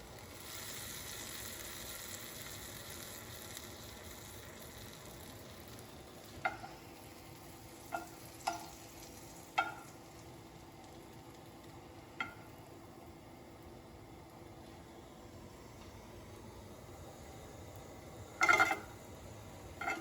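Apple cider donuts toast in a pan with seasonings and sugar, a quiet steady sizzle broken by a handful of sharp clicks and scrapes, the loudest near the end.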